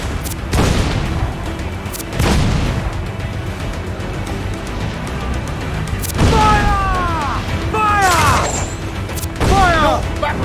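Naval cannon broadsides in Assassin's Creed IV: Black Flag, a volley of loud booming shots scattered across the clip, mixed with whistling projectiles and splashes near the end, over continuous battle noise and a voice.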